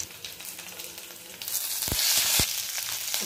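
Cumin seeds and garlic cloves fry in hot oil for a ridge gourd peel chutney, a steady bright sizzle swelling louder midway, with a couple of quick stirring scrapes and no talk.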